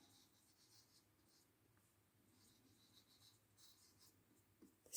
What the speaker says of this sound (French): Je vais essayer parce que j'ai un gros feutre